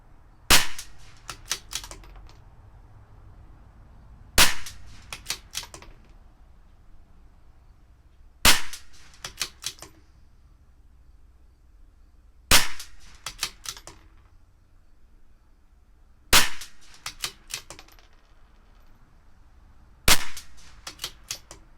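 A CZ 457 target rifle with an Olympic barrel firing RWS rounds at the range. Six loud, sharp, close shots come roughly every four seconds, each followed by a quick clatter of bolt cycling and clicks, with no voices.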